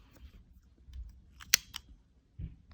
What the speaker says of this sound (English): cut your yarn